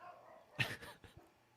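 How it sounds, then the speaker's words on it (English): A dog gives a short burst of faint, distant barks and yips, two or three quick yaps heard in the background with no voices over them. "I hear dogs."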